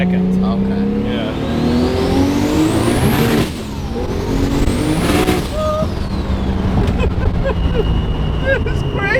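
A 1500hp R32 GT-R with an RD28/RB26 hybrid engine on E85 accelerating hard, revs sweeping up steeply, dropping sharply at a gear change, then climbing again, loud and close with turbo and exhaust noise.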